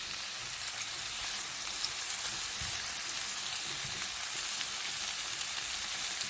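Pieces of tofu fry in a pan, making a continuous, even crackling sizzle close by for several seconds, with a few soft low bumps and no voices.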